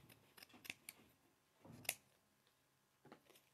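Scissors snipping around a paper circle in a quiet room, a series of sharp, close clicks and slices spaced irregularly, with a louder snip near the middle.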